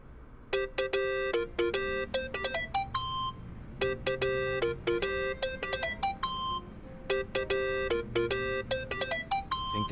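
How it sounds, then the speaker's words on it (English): Phone ringtone in the video game Yakuza 7, a bright electronic melody of repeated chiming beeps playing in bursts throughout, loud and close over a faint low game background. "Think that's your phone."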